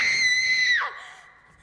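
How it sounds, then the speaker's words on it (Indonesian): A girl screams in fear in a film scene, one loud, sustained high shriek that breaks off and falls away after less than a second. "gadis itu justru berteriak ketakutan"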